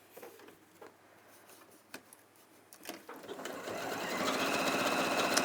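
A sewing machine stitches a second row on cotton canvas, starting with faint taps and clicks, then running loudly and steadily for the last couple of seconds.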